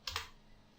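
A quick pair of computer keyboard key presses, two crisp close clicks in fast succession, then quiet.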